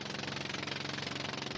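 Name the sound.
engine of a Chinese sampan fishing boat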